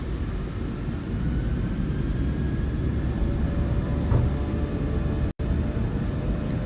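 Jet engines of a PMDG Boeing 737 in Microsoft Flight Simulator 2020 held at takeoff thrust give a loud, steady roar and rumble with a faint high whine, continuous apart from a brief dropout near the end.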